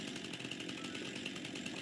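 Chainsaw running in a farming video game, a continuous dense buzzing roar held at steady loudness throughout, with no talking.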